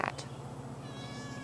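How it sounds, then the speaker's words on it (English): A neighborhood cat meowing, a brief faint meow near the start over a low steady hum, with no speech. "This is our neighborhood cat."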